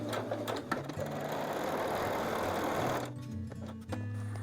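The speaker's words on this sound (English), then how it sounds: "And then I'm going to sew on that line." A sewing machine stitches along a marked line on a quilt block, with a steady, rapid whirring hum and needle clatter that briefly eases and then resumes.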